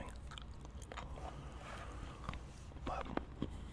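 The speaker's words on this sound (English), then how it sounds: "Get a little gum chewing." Gum chewing, faint and close, soft wet smacks and clicks scattered unevenly, a few sharper snaps near the end over low background hiss.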